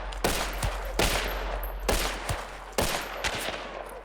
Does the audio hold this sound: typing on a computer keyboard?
no